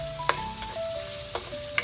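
Pork fat rendering from chicharon bagnet, a close sizzle and crackle with a few sharp pops and faint thin whistling tones over the frying noise.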